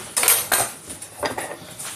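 Pasta being stirred in a pot of boiling water for bolognese, a few light scraping and clinking strokes of utensil against pot at close range, with no voices.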